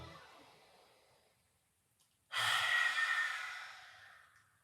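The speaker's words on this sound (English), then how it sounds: "you're gonna inhale through your nose, and then exhale out your mouth, letting your tongue go out" Breathing exercise with an inhale through the nose and a loud exhale out the mouth: a faint drawn-in breath, then a sudden, strong, breathy whoosh that slowly fades, close and alone.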